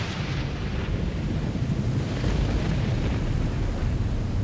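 Thunder from an isolated storm in the desert: a deep, sustained rumble rolling on for several seconds, loud and broad, with no voices.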